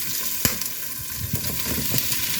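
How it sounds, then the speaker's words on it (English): Sausages sizzle and fry steadily in a hot pan with onion, a dense crackling hiss broken by a few sharp clicks and pops. "So I want to saute my sausages and some onion."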